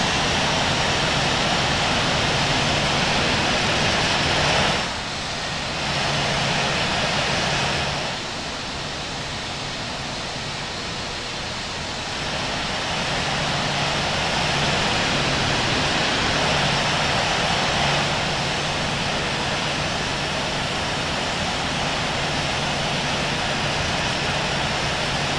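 Continuous broadband roar of an Air India Airbus A350 taxiing in the Infinite Flight simulator, a steady engine rush that dips briefly and then holds level.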